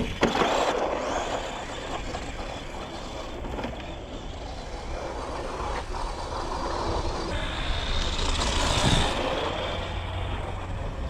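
A budget Arrma RC truck runs at full throttle, its electric motor whining steadily and loud throughout with rising and falling pitch as it accelerates, no voices over it.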